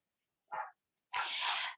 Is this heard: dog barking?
yes